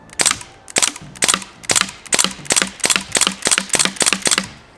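A Crosman DPMS Panther BB rifle fires rapidly at a wooden cabinet door, about eleven sharp, loud cracks in a steady fast rhythm, each snapping with impact against the wood, with no voices.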